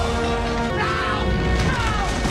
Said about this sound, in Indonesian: Gerbang pertama pun hancur.